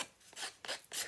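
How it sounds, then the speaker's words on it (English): Sharp edge of a paper card being scraped and roughened, three rasping strokes spaced in a steady rhythm, close and crisp with no voices. "just distress the edge so it looks a little more natural"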